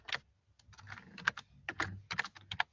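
Computer keyboard typing while code for a web page is written, with quick irregular bursts of keystrokes separated by short pauses, close and fairly loud against an otherwise quiet room.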